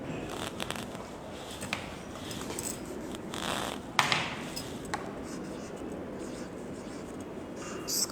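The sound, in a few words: pen writing on paper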